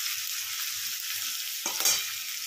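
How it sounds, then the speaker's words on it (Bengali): Ginger, garlic and chopped chili hit hot oil with cumin seeds on high heat, giving a steady loud sizzle, with a brief clatter of stirring partway through, no voices. "একটু অল্প করে জিরে ফোড়ন দিয়েছি। আর এখানে দিয়ে দেবো এই যে আদা রসুন আর লঙ্কা কুচি।"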